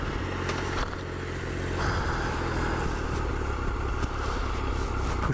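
Motorcycle riding off, engine rumbling and revving with a rising tone while the rider wears a hardshell backpack, close and steady with some clatter and wind noise.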